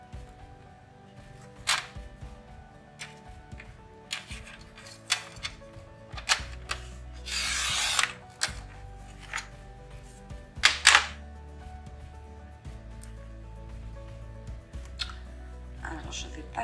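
Scrapbook paper being cut by hand during a scrapbooking craft session, several sharp short snips and crisp rustles scattered among quieter handling noises, with a voice speaking French in between.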